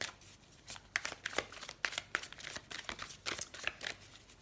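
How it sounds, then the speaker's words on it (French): A deck of oracle cards is shuffled for a reading, giving quick bursts of close, crisp riffling and slapping card sounds in an uneven rhythm, fairly quiet and without voices. "On va prendre quelques cartes de l'oracle bleu pour voir s'il y a des messages pour la semaine prochaine."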